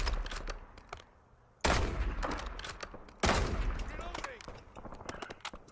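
Bursts of automatic gunfire in the Warzone shooter game, two loud volleys each tailing into scattered shots and clatter, with quieter sporadic firing around them.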